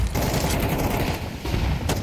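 Sprays of automatic gunfire during a professional Counter-Strike match between TSM and Apogee, a dense rattling stream of close shots that runs nearly unbroken for about two seconds, with no voices.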